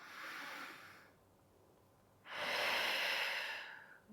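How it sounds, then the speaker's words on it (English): A slow, deep breath in during a Pilates core session, heard as two soft airy breathy swells, the second louder and longer, with a quiet pause between them. "One more big deep breath in."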